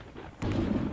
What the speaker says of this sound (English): A shot of lightning cracked in the air, snapping the colour of the gloomy sky